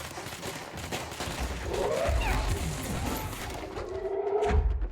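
Machine gun fire in the video game Control, a dense rattling burst of shots blended with game effects and thuds, steady and loud throughout, with no talk over it.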